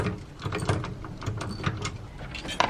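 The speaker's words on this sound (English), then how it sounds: "what we're gonna do is we're gonna come up from the bottom and screw them in like this" Screws being driven in from below during a van swivel seat install, heard as close, quick ratcheting clicks with short mechanical bursts in a cramped space.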